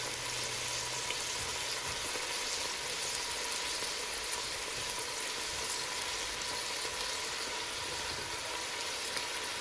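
Green and yellow bell peppers and celery fry in a pan with a steady, dense sizzle that runs close and continuous for the whole stretch, with no one talking.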